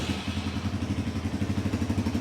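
A 250cc sports motorcycle with a snail exhaust starts up and settles into a steady, throbbing idle. Close and fairly loud, with evenly spaced engine pulses and no talk.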